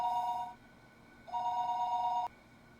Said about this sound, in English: Fuck you, telephone.